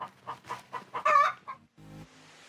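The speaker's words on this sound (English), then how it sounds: "What do you think that chicken's talking about?" A farm chicken clucking in a string of short, close, rhythmic calls that rise into a louder squawk, then fade into quiet.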